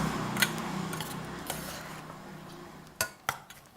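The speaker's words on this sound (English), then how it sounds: "Mix in all those ingredients." Thai beef salad with lime and fish sauce is tossed in a bowl, with scattered clinks of a utensil against the dish and a soft background rustle and hum.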